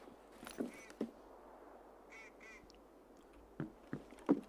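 Ducks quacking in the game Escape From Tarkov, a few short nasal double quacks at middle distance alongside scattered soft thuds and clicks, fairly faint over a quiet outdoor background.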